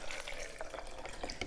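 A little water poured into a smoothie made with frozen fruit: a short, faint, soft splashing trickle.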